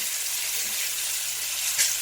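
Short ribs browning in butter in a pan give a steady, close frying sizzle with a faint clink near the end.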